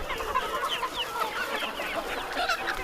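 A flock of chickens on a poultry farm, fed live insect larvae, clucks and chatters continuously with overlapping calls at close to middle distance, and nobody speaks.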